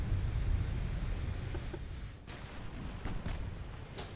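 Warship secondary guns fire in Ultimate Admiral Dreadnoughts: a few sharp distant cracks pop over a low, rumbling naval battle drone, spaced irregularly and fairly faint.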